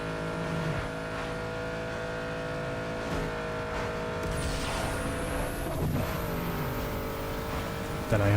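Engine drone and passing car traffic in Need for Speed: Underground 2, a steady revving hum with a rising whine of another vehicle sweeping by, with talking over the top.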